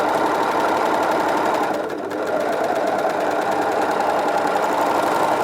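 An overlocker serger stitching a seam through fabric, running in a continuous fast mechanical whir with a brief dip in speed partway before resuming at full pace, close and loud with no talking.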